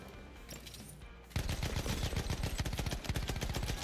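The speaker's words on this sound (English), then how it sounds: "Jeez, are these homing bullets?" Battlefield 1 gunfire: after a quieter lead-in, a loud, steady stream of rapid automatic shots erupts and continues without pause, close and punchy.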